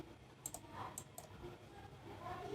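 Several sharp, quiet computer mouse clicks sound while working in CorelDRAW, a few spaced taps standing out above a faint room hum.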